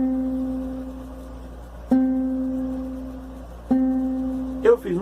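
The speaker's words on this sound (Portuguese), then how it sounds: "Agora, esse é o som do violão, na mesma altura e a mesma nota." Acoustic guitar plucking the note C, three separate plucked attacks each decaying slowly, clear and close, with a brief rustle at the end.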